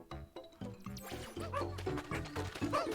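Dogs Ochi or Moss from the video game Pikmin 4 bark and yip in a run of short, repeated bursts, fairly close and clear, with no talk over them.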